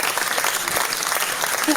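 Canned applause played from a soundboard during a podcast, a steady dense clapping and crowd burst lasting under two seconds at full level.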